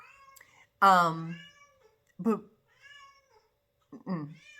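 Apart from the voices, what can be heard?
pet cats meowing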